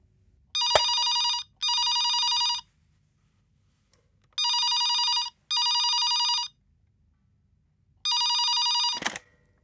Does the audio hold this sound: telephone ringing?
yes